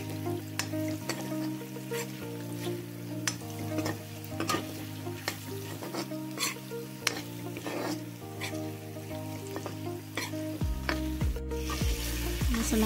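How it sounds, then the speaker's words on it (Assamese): Spices frying on low heat in a pan for a jackfruit curry, a steady close sizzle with repeated stirring scrapes throughout and no talking. "মসলাখিনি এতিয়া মই প্ৰায় 5 মিনিটমান কম জুইত ভাজি থাকিম"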